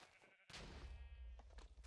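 Sheep bleating in the modded Minecraft game GregTech New Horizons, one loud, close, wavering bleat lasting over a second after a short sharp thunk.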